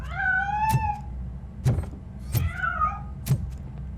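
Cat meowing in RoboCop: Rogue City, four or five short plaintive mews spaced about a second apart, fairly close and clear over a low steady game hum.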